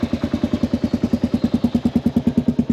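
A motorcycle engine runs close by in Malaysia's Central Highlands, its loud, steady, rapid pulsing beat holding an even rhythm as the rider sets off.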